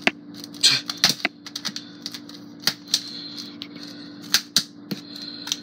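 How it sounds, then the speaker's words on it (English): A knife pokes and slices at the plastic film covering a frozen Swedish meatball meal, making irregular sharp clicks and crackling taps over a steady low hum, close and fairly loud with no talking. "So let's just cut a slit in the film"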